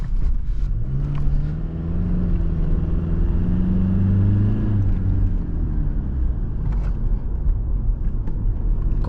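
A 2020 Toyota Revo V pickup with a 2.8 L diesel engine, in rear-wheel drive, drives along a road with a steady low engine drone and rumble that rises briefly as it accelerates; no talking.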